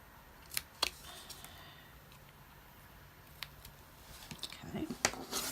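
Scissors trim tape along a score line, a few sharp close snips early on followed by quieter clicks and rustling handling toward the end.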